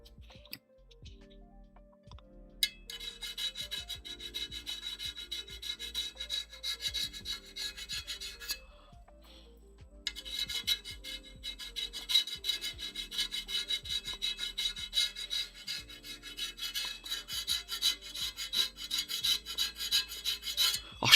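Sharpened flat metal spudger scrapes in repeated short rasping strokes, sparse at first and then dense and continuous, close up with no talking.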